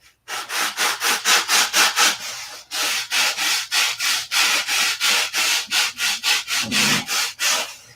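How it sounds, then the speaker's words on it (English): Balsa wood mold buck being sanded by hand, loud rhythmic back-and-forth rubbing strokes in a steady series of about two dozen passes, close up with a brief pause partway through. "still gonna have to sand it on both sides"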